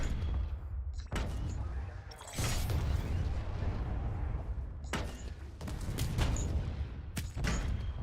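Aircraft tail gun fire in the Planetside 2 video game, heavy booming bursts of several seconds each, separated by short gaps, loud and close with no voices.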